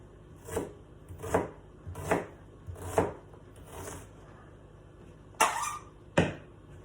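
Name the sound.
onion being chopped on a cutting board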